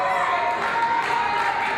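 A wrestling crowd at an independent pro wrestling show cheers and roars in a dense, steady wash of voices, loud and continuous throughout.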